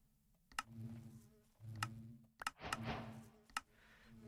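Bees in a Minecraft bee dome from the All the Mods 10 modpack, a low, steady buzzing hum broken by several sharp clicks, with a brief brighter rushing burst midway.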